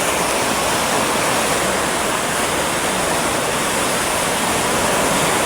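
The Son river flows beside a road in Rohtas district, heard as a loud, steady rushing roar of moving water that fills the whole time with no talking.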